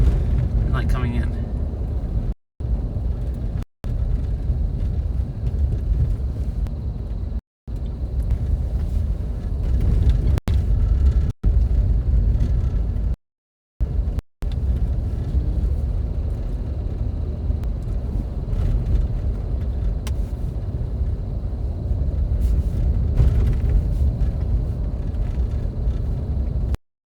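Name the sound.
big pickup trucks driving up to a mountain overlook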